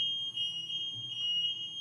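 Building alarm system going off, a steady piercing electronic tone held throughout at moderate level with faint low rumble beneath, no talk.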